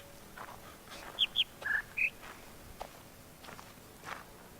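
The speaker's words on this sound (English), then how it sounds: "That's the bird." Short chirping bird calls in the video game The Witness, a few brief tweets in a quick two-high, one-low pattern, faint over quiet ambient background with soft footsteps.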